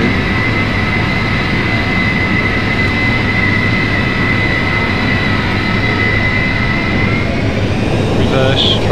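Four jet engines of a Boeing 707 in a flight simulator roar steadily through the landing rollout at night, a loud continuous broadband rumble with a sustained whine throughout.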